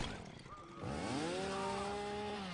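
Chainsaw revving in Mortal Kombat X, a motor that surges quickly from a low idle into a loud, steady buzzing whine and holds it, close and dominant over a busy background.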